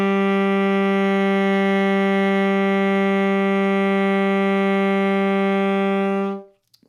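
A saxophone holds a single steady note A, a rich, reedy tone sustained evenly for about six seconds before cutting off cleanly.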